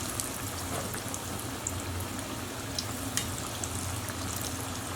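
Macadamia-crusted chicken strips sizzle in hot frying oil, a steady dense crackle and bubbling that holds evenly close up throughout, with small pops scattered through it and no talking.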